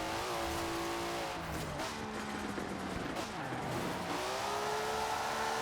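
Toyota Celica engine in Forza Horizon 4 revving and pulling hard, a steady loud drone with rising and falling pitch as the car accelerates and shifts, continuous throughout.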